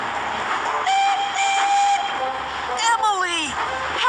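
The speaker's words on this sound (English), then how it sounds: "Then, Thomas heard some chuffing and puffing." A steam locomotive in a children's animated train story chuffs and puffs nearby, with bright whistle toots over a rolling rail rumble in a short burst.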